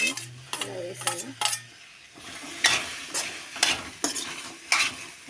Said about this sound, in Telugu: బెండకాయలు ఇలా అన్నీ వేసేసి బెండకాయలు బంక అయ్యే వరకు వేయించాలి ఫ్రెండ్స్